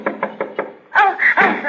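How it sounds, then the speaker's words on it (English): A pasteboard suitcase knocked off a bed in a small room: four evenly spaced dull knocks come first, then a louder tumbling clatter and thud as it lands, close by, with no talking. "Oh, sorry. I didn't mean to make you knock your suitcase off the bed."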